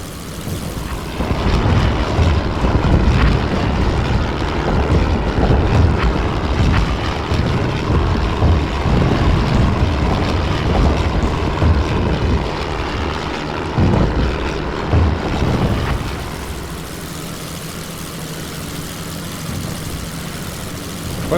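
Droning WWI propeller aircraft engine in flight in Wings Over Flanders Fields, a loud, steady, close roar that holds constant before easing to a lower hum near the end.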